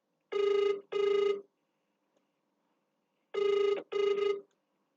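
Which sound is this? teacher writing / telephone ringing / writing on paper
telephone ringing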